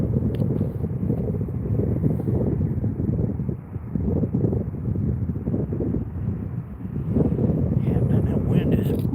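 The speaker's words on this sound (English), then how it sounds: "that wind is cold" Cold wind gusts steadily against an outdoor microphone, a low rumbling roar that swells and dips, with someone talking faintly under it.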